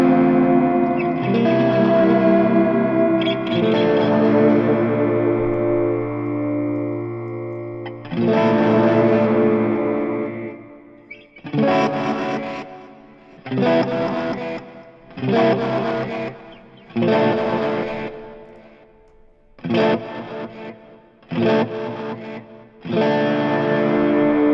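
An electric guitar runs through the Axe FX 3 multitap delay effect, playing sustained chords and then a series of short, loud strummed bursts separated by gaps, each trailed by repeating echoes.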